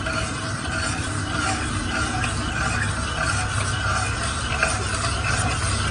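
Sugar is stirred into reduced milk in a pan on a gas stove, giving a steady, continuous scraping and swishing close up with a faint simmering hiss beneath, unbroken for several seconds.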